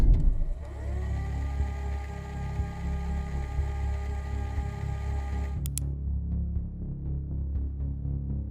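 Eric's pickup truck starts and pulls away on a road at night, its engine rumbling loudly up close then settling into a steady lower drone as it drives off, with no voices.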